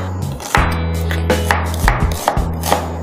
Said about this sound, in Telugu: ఫస్ట్గా నేను ఇందులో పచ్చిమిరపకాయలు, ఉల్లిపాయలు నేను రఫ్గా చాప్ చేసుకుంటున్నాను